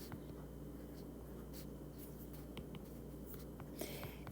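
Pen writing math transformation notes on a surface, faint scratchy strokes and light taps over a quiet background hum.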